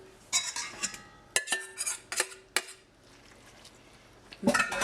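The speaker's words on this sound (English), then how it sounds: "take our sausage mixture and throw it in here" Sausage mixture for breakfast burritos tossed into a pan with eggs, a series of sharp clanks and scrapes of a spatula against the pan, close up, then a quiet pause and more clatter.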